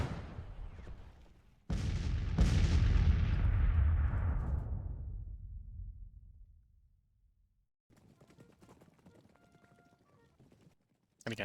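Two heavy artillery blasts boom out in the Grand Tactician: The Civil War video game during the Battle of Winchester, each followed by a long rolling rumble that fades away. Faint, scattered crackling follows in the quiet.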